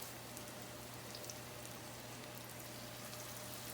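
Chicken pieces for chicken parmigiana frying in hot oil, a steady dense sizzle and bubbling that stays even and close for the whole stretch, with no talking.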